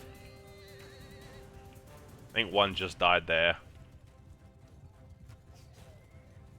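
Horses in the Mount and Blade 2 video game: a loud horse whinny in rising and falling bursts near the middle, over a steady background of battle noise and hoofbeats, with someone talking over it.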